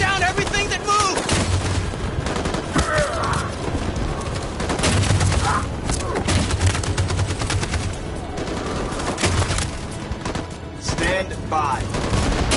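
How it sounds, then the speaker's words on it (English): Dense machine gun fire in the video game Detroit: Become Human, loud sustained bursts of rapid shots layered with booms and battlefield noise, continuing unbroken throughout. "That machine gun is taking down everything that moves!"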